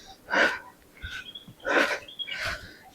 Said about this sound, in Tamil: பயங்கர மூச்சு வாங்குதுங்க